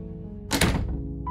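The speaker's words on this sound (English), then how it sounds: "You try the door." In the video game Goodbye Princess, a door is tried and gives a single dull, heavy thunk with a short rattle. It is loud and close, with no voices.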